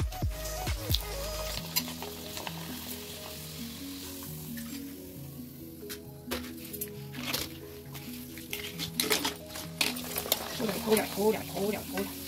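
Papad frying in hot oil in a home kitchen while preparing a Shivratri meal, a steady sizzle and crackle running throughout with occasional stirring, beneath music or a voice.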